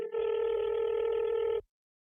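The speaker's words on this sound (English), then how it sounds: "The phone is ringing. I have a satellite phone that I left somewhere." Satellite phone ringing: one steady electronic tone, close and fairly loud, holding for about a second and a half before cutting off abruptly, with no voices.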